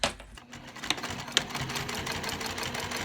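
A sewing machine stitching an eighth-inch seam allowance on zipper tape for a backpack, giving a fast, steady mechanical whirr with a few sharp ticks near the start, close and fairly quiet, with no talking.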